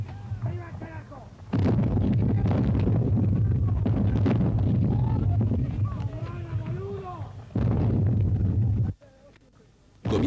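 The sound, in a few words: artillery fire in a Falklands War artillery duel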